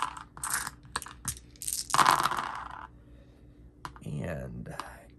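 Eleven dice for an attack in a solo RPG session rattle and clatter onto a surface in quick bursts of small clicks and tumbling knocks, close by, with a soft voice murmuring near the end.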